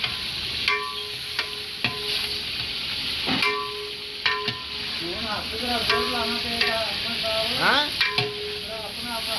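Chicken meat hits hot oil in a large biryani cauldron at a factory, giving a loud, steady sizzle broken by sharp metallic clanks of stirring.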